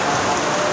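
Rain falls hard and close, a loud, unbroken wash of spattering drops filling the short moment with no pauses.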